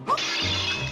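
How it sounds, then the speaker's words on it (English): A clay pot smashes in a Zelda video game: one sharp crash bursts into a bright, lingering shatter of scattering fragments, close and loud, with a low game tone underneath. "break the pot on the shelf that is barely concealing a fully formed tunnel to freedom"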